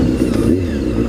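A motorbike engine, just refuelled after running out of gas, runs steadily at close range with a low, throaty drone and slight rev fluctuations, heard alone over about a second.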